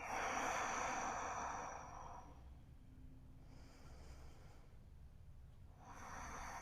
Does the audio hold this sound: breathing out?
yes